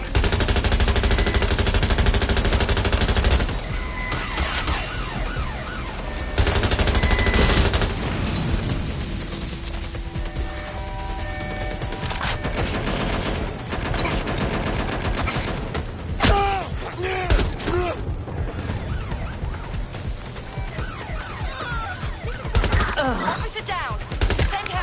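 Gunfire in Watch Dogs: Legion: dense, loud bursts of automatic fire and single shots crackle almost without pause, with booms mixed in and voices talking now and then.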